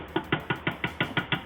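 Onions and garlic being knocked off a blade into a pot, about nine quick, evenly spaced knocks close by, with no talking.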